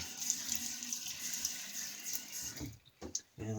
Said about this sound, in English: I'm going to wet my face again here